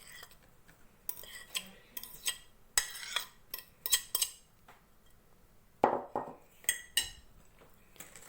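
Banana is mashed and stirred with cutlery in a bowl for a banana cake batter, producing a string of irregular clinks and scraping taps, close and moderately quiet, with no speech.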